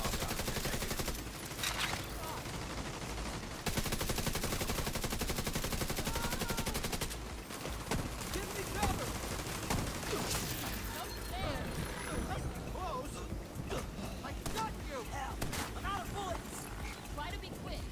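Weapon gunfire in The Division 2, dense rapid shooting and busy combat noise running continuously at a fairly even level, with a voice talking over it at times.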